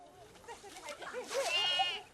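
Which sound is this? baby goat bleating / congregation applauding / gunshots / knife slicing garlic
baby goat bleating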